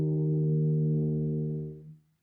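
A single sustained tuba note, E flat fingered on the first valve, rings out steady and full for nearly two seconds, then fades and cuts off.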